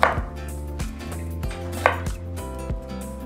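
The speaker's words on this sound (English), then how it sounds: "now I'm just going to cut my cucumber in small pieces" A knife chops cucumber on a board in a steady series of crisp thuds, about a dozen cuts with no talking.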